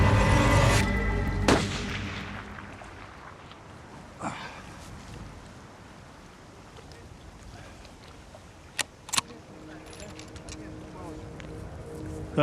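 Rifle shots fired while sighting in guns beside a river in the Siberian wilderness: several sharp, loud cracks spread across the stretch, with two close together near the end and a quieter ambient background between them.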